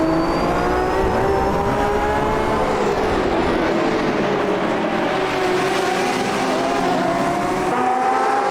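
GTE race car in a racing video game, engine roaring steadily at high revs with shifting pitch as it pushes through corners, loud and continuous with no talk.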